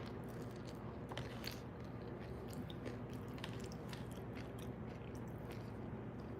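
Crunchy noodles and hot Cheetos chips being chewed close to the mic, with steady crackly crunching bites running throughout and no talking.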